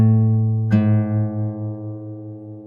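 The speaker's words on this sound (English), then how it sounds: "So we fret the low E, then pluck it, and then we pluck the open A string after." Guitar low E string fretted and plucked while tuning by ear, a sustained ringing note joined by a second plucked open A string, both decaying slowly together.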